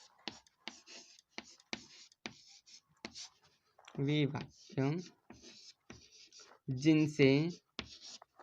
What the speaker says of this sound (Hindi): चलिए लिख के बताते हैं आपको